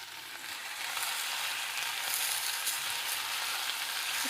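Tomato sizzling and frying in a hot pan with onion and ginger for a Thai clam soup, a steady broadband crackle that swells after the first half second and holds evenly throughout with no talking.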